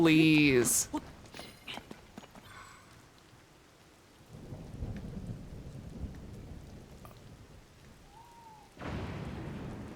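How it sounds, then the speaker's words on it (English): Rain and thunder from a storm in the game Zelda: Tears of the Kingdom, a low rumbling wash with rain hiss that swells near the end, under a brief spoken word and a quiet game tone. "That's gotta be the last lightning strike"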